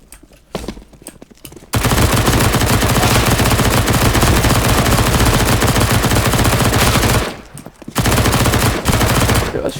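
MP9 submachine gun in CS:GO firing long, loud, continuous automatic bursts at close range, broken by brief pauses between streams of rapid shots.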